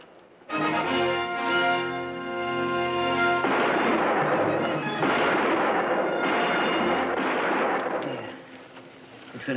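Gunfire in a western shootout, starting with a sustained loud blast and then a rolling, dense crackle of repeated shots that goes on for several seconds before tapering off. No voices are heard.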